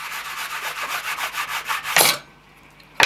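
Repeated rubbing strokes of a small piece against a surface while building model railroad crossing gates, a steady rhythmic scraping of about a dozen passes, close and moderately loud, ending in a brief burst and then near silence.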